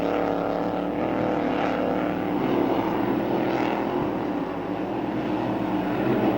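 Hydroplane race boats at the Seafair Grand Prix roar past at a distance, a broad sustained engine rumble that swells and fades slightly with no voices over it.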